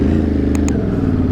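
A Ducati motorcycle at EICMA 2025 with a steady low engine rumble, joined by two brief higher clicks or clatters partway through.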